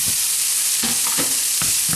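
Roughly chopped garden sage sizzles steadily in a hot frying pan, with a few short scraping stirs breaking through the constant hiss.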